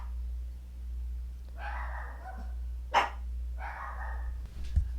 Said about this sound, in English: the dogs are barking us home